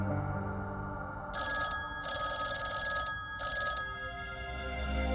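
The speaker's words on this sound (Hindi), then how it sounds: "समीर का फोन।" A telephone rings nearby in two or three bright, trilling bursts with short gaps between them, over a quiet background.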